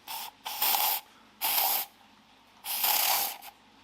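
Anti-rust oil bursts from a radial spray nozzle on the underbody of a Mazda RX-7 FD3S under restoration: three sharp, close hissing sprays of varying length, separated by short pauses.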